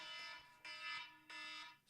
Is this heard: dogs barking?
no